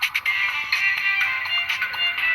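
A Samsung cell phone plays its startup tone, a bright chiming melody of several quick pulsing notes lasting about two seconds, clear and alone.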